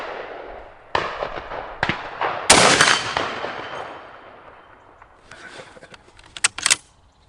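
Rifle shots from an M44 and a K98 at an outdoor range, several loud cracks spaced a second or so apart, each followed by a ringing ping from steel gongs and a fading tail.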